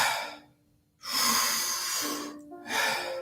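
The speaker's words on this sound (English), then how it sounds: "Keep breathing just like that" Deep, forceful breaths in and out as part of a Wim Hof breathing exercise, with a long inhale, a brief pause, then another full breath, close and fairly quiet.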